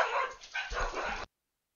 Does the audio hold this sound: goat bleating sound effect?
no